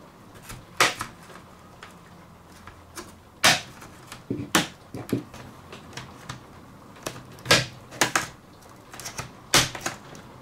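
Plastic back cover of a laptop being pried and twisted open with a tool, a series of sharp, separate snaps and clicks at uneven intervals, close and crisp against a quiet background.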